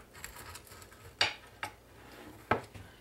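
A pizza cutter slices through freshly baked baklava, giving three sharp, crisp crunches spaced apart, with soft rustling in between.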